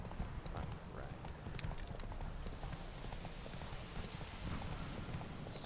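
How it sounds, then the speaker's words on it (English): Horse galloping along a road in the Witcher 3 video game, rapid continuous hoofbeats under a dense noisy bed of game ambience, steady and close throughout. "just your horse just runs along the road"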